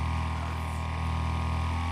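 Steady, loud buzz of a speeding lawnmower engine in the car-combat racer Wreckfest, a constant revving drone with rough harmonics and no pauses or speech.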